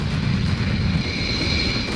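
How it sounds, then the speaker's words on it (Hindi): Two Rafale fighter jets flying, a steady loud roaring engine rumble with broadband hiss that holds without a break throughout. "दो रफाल फाइटर उड़ा दिए।"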